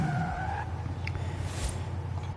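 Ford Mustang tires skidding while drifting through corners in Forza Horizon 5, a sustained squeal over a constant engine drone, with the tire tone fading early and a rough rumbling slide continuing.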